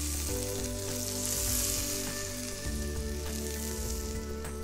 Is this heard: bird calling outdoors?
no